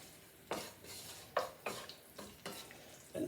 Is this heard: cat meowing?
no